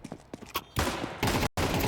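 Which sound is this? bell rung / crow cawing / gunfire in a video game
gunfire in a video game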